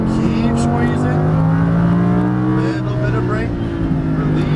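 Lamborghini Huracan LP610-4 engine pulling hard on a race track, a loud, steady engine drone with rising harmonics throughout, with an instructor speaking over it.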